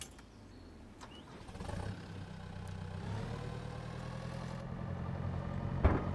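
A tractor engine cranks and fires up in the farming video game Pure Farming 2018, then settles into a steady mid-low idle that grows slightly louder, ending with a sharp click.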